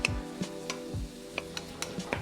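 Onions, garlic and chard sautéing in a pan, a steady low sizzle broken by irregular sharp ticks and spatters, close and moderately quiet with no talking.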